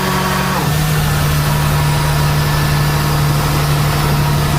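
A fire engine high water pumper's engine idles with a loud, steady low hum and constant mechanical drone, its pitch dropping and settling shortly after the start, heard close up without voices.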